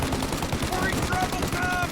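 Rapid machine-gun fire in Mafia: Definitive Edition rattles out in a dense, loud burst aimed at a car's tires, with engine rumble beneath.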